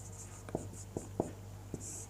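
Handwriting on a board or paper comes through as a few soft, close taps and scratches at an uneven rhythm over a low steady hum, with no speech.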